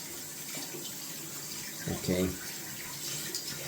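Tap water runs briefly from a faucet to wet a shaving brush, a soft splashing stream rising near the middle under steady background hiss, with a short spoken word from a person.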